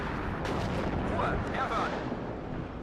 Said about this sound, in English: Artillery on the junction there, working out nicely.